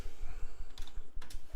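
Rapid keystrokes clatter on a French computer keyboard, a quick, even stream of close clicks with a couple of sharper taps.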